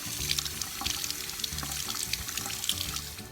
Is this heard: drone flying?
no